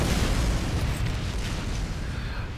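A rocket from a Team Fortress 2 rocket launcher exploding, heard as a dense, rumbling boom that rolls on and fades slowly over a couple of seconds, loud and close with no voices.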